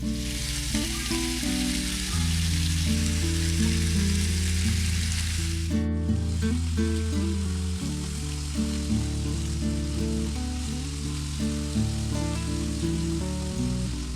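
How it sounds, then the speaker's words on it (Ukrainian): A steady, loud sizzle of pork frying over medium heat in a pan continues throughout, close and crackling, with music playing underneath. "Поки смажиться м'ясе"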